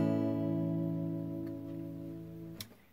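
Acoustic guitar chord fingered on the second fret, a single strum ringing out and slowly fading, with a light knock near the end; quiet and close, no talking.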